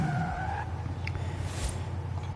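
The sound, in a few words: Ford Mustang tires skidding while drifting, Forza Horizon 5 video game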